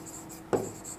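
A single short stroke of writing a number on paper or board, one brisk scratch in a quiet room with a faint steady hum underneath.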